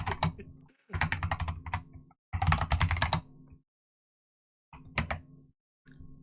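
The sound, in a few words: typing on a computer keyboard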